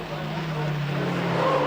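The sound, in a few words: rallycross cars racing, braking and tire squeal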